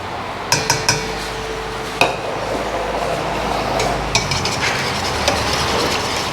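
A utensil mixes an egg into cinnamon roll dough in a bowl, making a scattered series of sharp clicks and taps over a steady, fairly loud background wash.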